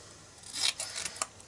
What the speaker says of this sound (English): cut it off around there